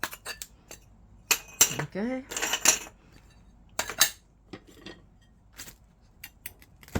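A glass cutter scores across mirror or stained glass, giving sharp clicks, ticks and brief gritty scrapes in scattered bursts, close by, while someone speaks briefly in between.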